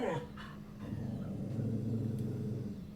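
A house dog barks and whines inside while someone walks a dog on the street out front, the barking close and continuous over a low rumble, with a voice talking.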